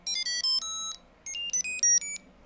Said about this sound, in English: the sounds coming out of this computer sounds like an 8-bit video game